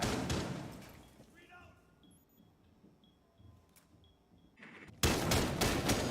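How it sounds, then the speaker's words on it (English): Gunfire in Rainbow Six Siege during a collegiate esports match between Saint Peter's University and St. Clair College, a loud burst at the start, scattered faint shots and ticks, then heavy rapid firing at the end, with caster talk underneath. "Shots fired."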